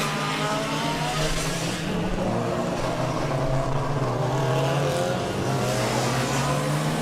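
A Formula Student race car from the Schweinfurt team rounds the hairpin at the end of the Nordkurve on its last endurance lap, its engine droning steadily and loudly with rising and falling revs, close and continuous.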